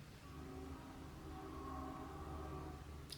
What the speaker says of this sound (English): the train goes through every time I sit down to film